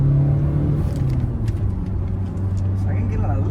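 A Kia Carens engine hums and rumbles steadily from inside the cabin as the car accelerates through the gears, with a voice talking over it throughout.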